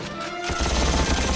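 Gunfire bursts from Lex Luthor's weapon demonstration in the animated Superman series: after a brief quiet start, a loud dense rattle of rapid shots erupts and continues without pause to the end.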